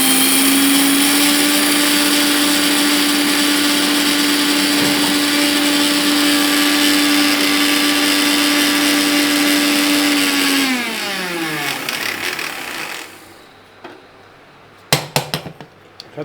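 A mixer grinder whirs loud and steady as it grinds ingredients for sathu maavu flour, then winds down with a falling pitch and stops, leaving a few clinks of the jar.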